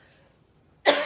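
A single sharp cough bursts out near the end after near-silence, close and fairly loud, with a short rough tail.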